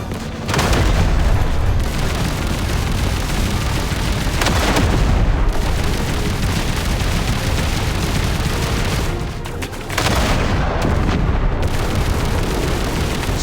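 Weapons fire in battle in the Duet Night Abyss game: heavy booms and blasts layered into a dense, loud, continuous roar of combat, dropping out briefly a couple of times before surging back.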